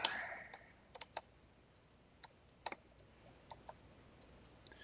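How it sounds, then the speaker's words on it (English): Computer keyboard typing in short, sparse bursts of crisp clicks with pauses between, close and fairly quiet. "I can type good"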